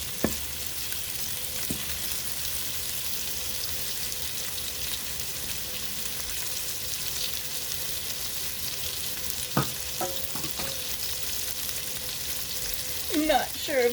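Sausage meatballs fry in a pan with a steady, dense sizzle throughout, broken by a few soft clicks and scrapes of stirring near the end; no one talks.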